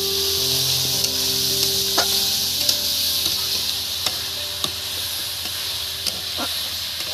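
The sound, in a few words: chopped onion added to hot pan, sizzling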